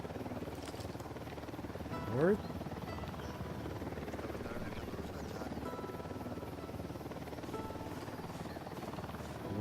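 A helicopter flies continuously through the Ghost Recon game scene with a steady, loud rotor drone, and someone speaks briefly over it.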